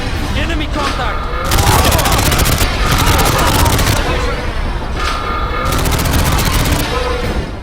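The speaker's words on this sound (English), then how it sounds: "once you see that gun fire 4 times, then you know you're good" A turret gun fires in a video game, with loud, dense bursts of gunfire that run almost without pause and sound close and harsh.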